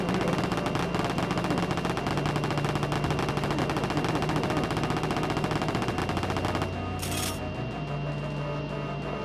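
Rapid chain gun fire in Wolfenstein 3D on the Atari Jaguar, a dense, unbroken burst of loud mechanical shots lasting about seven seconds, then stopping abruptly as a brief higher blip follows over a steady low game drone.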